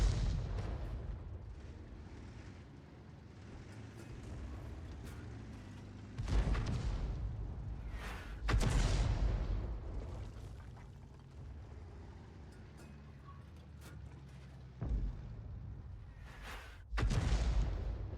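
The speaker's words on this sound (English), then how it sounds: "His shells are landing all around that tank." Artillery shells from a 105 leFH18B2 self-propelled gun bursting around a tank in the World of Tanks game, several deep booming impacts spaced seconds apart over a low continuous rumble.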